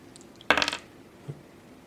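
Several dice tumble onto a table in a Fortune and Glory board game, one short clattering burst of rattles followed by a faint single knock, close and alone.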